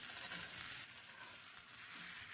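Pan-seared ribeye or beef tenderloin steak sizzling in a hot pan as it is turned, a soft steady hiss of frying fat throughout with no talk.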